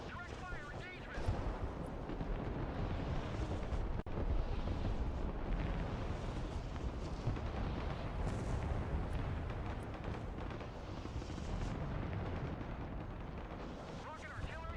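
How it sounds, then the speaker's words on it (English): Rocket artillery fires in the multiplayer war game Broken Arrow, a dense, continuous roar of launches and blasts rumbling without pause for the whole stretch, loud and heavy. "Rocket artillery ready, sir. Providing direct fire."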